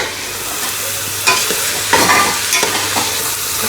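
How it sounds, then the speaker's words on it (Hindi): Grated carrot halwa rich with butter frying and being stirred in a stainless steel pot, a steady close sizzle broken by several scraping stirs of the spoon, no voices. "और उधर ये देखें हलवा, इसको हमने भूनना है।"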